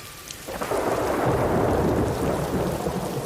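A heavy rainstorm in Toronto, with steady rain hissing until a deep roll of thunder swells in after half a second and rumbles on under the downpour, loud and close.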